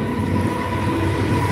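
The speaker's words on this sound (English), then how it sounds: "sorry, it's a train." A train passes with a steady, loud, low rumble and a dense mechanical roar throughout, with no voices.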